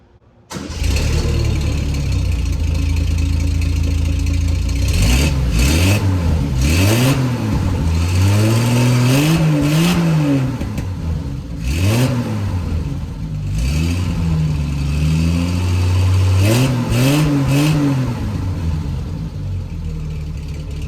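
A car engine cranks and catches after a muffler swap, then idles and revs repeatedly in rising and falling swells, loud and close, with a deep exhaust rumble throughout.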